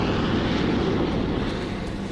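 An RAF bomber aircraft drones overhead, its broad, steady engine roar filling the scene loudly and evenly, with no voices.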